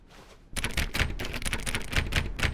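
Rapid repeated clicking from The Stanley Parable, a fast irregular run of crisp clicks that starts after a short quiet moment and carries on steadily at close range.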